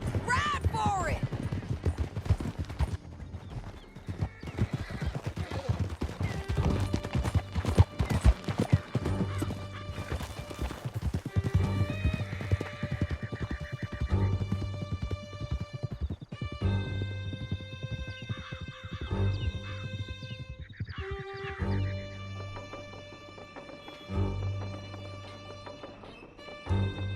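A horse in Red Dead Redemption 2 gallops hard with rapid clip-clop hoofbeats and lets out a whinny. The gallop runs under game sounds, crashes and gunfire, then the hoofbeats ease off as game music and voices take over.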